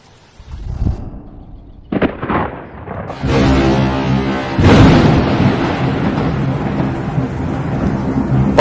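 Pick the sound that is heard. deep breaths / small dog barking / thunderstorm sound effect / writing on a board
thunderstorm sound effect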